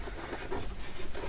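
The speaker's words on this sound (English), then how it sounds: "So we'll just fold that over." A short, close rustle and rub of paper folded over by hand as a journal signature is made, dry scraping texture with no talking.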